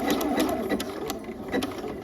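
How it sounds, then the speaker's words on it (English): A sewing machine runs steadily, stitching down the length of a strip of elastic for pajamas, with a continuous close mechanical whir and faint rhythmic ticks throughout. "we're gonna stitch all the way down the length of the elastic"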